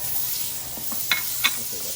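Butter, half a stick, sizzles steadily in a hot pan beside a steak, a soft continuous frying hiss with two brief sharper crackles as it is stirred around.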